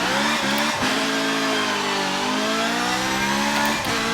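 A Ferrari race car in a racing video game pulls away at the start, its engine revving loudly through rising gear pitches with a brief tire squeal, close and continuous.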